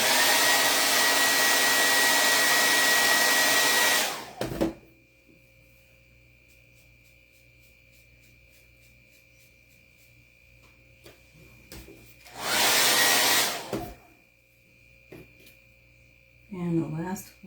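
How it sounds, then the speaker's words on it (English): A hair dryer blows on a patriotic bead and chalk craft project in two loud, steady bursts of about four seconds and about one and a half seconds, separated by quiet hum and faint ticking. "Okay, blow dry."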